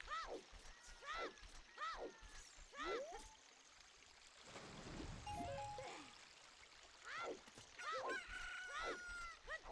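A rooster crows at dawn in the Ocarina of Time video game, several rising and falling calls repeating at a moderate distance over a trickling water ambience, with faint talk mixed in.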